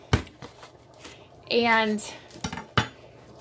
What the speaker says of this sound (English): next we're going to go ahead and chop up our Velveeta